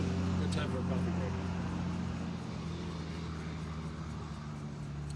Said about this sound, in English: I'm going to let this other truck pass so you can hear okay